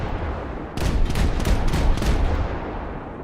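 Naval guns firing in a Japanese coastal-ship naval battle game: a dense run of sharp, loud gunfire bursts in rapid succession over a steady low rumble of engine and sea, tapering off after a couple of seconds.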